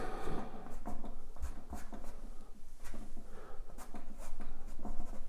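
A kneaded eraser rubbed over a charcoal drawing on canvas: soft, steady scrubbing and scratching strokes in quick repeated bursts, close and fairly quiet, with no talking.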